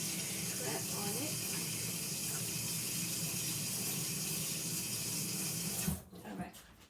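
A tap runs steadily into a sink as hands are washed, a constant close hiss of flowing water that cuts off abruptly near the end, leaving brief faint handling noises.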